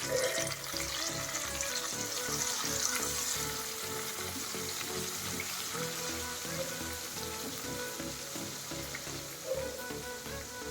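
Ripe red chillies sizzle in hot oil as a tempering for lemon pickle, a dense, continuous crackle that stays loud and even throughout, with occasional stirring.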